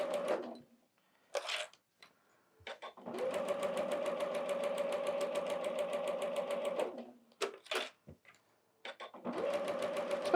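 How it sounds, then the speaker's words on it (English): A sewing machine stitches around a quilt panel with minky backing, running in steady bursts of a few seconds each with short pauses between them, close and fairly quiet. "I'll sew probably, like an inch or a half an inch, all the way around, just so it lays right"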